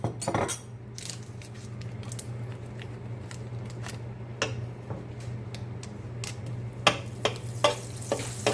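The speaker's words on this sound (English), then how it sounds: "We'll let that butter melt." Butter melts in a pan of hot vegetable oil, giving a steady low sizzle with scattered light ticks and clicks from a utensil. The clicks grow busier toward the end.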